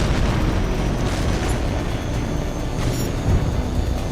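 A destroyed ground target explodes in the PlayStation 3 jet combat game Tom Clancy's H.A.W.X 2, a loud, sustained roaring blast rumbling across the whole stretch with no letup.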